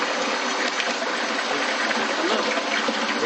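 Water gushes steadily and loudly as it is pumped into a lab measuring tank during a venturimeter and orificemeter calibration, a constant, broad rushing sound with no break.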